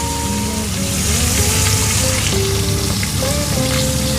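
Milkfish (bangus) frying in hot oil, a loud, steady close-up sizzle with constant crackle throughout, faint background tones underneath.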